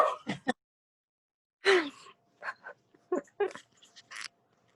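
Pet dogs yip, bark and whimper in several short, fairly close bursts, separated by stretches of silence.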